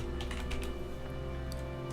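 Rapid clicking of a computer keyboard being typed on, light irregular keystrokes close by over a steady low hum, with no voices.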